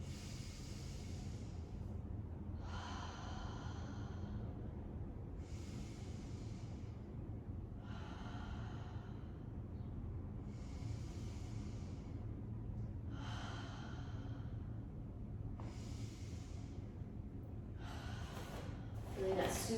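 Deep, slow breaths in a guided breathing exercise repeat about every two and a half seconds, roughly eight long airy inhales and exhales, soft and close over a low steady background hum.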